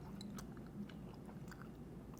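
Someone chews a Cheez-It Taco Bell item close to the mic, with soft, irregular crunches and bites spread across a quiet background.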